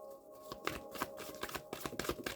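Tarot cards are shuffled close up in a quiet room, giving a rapid series of soft riffling slaps and flicks in an irregular rhythm over a faint steady hum.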